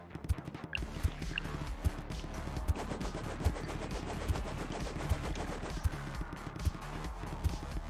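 Video-game gunfire crackles in steady rapid bursts with regular heavier thumps spaced about half a second apart, under a dense layer of game noise and no talk.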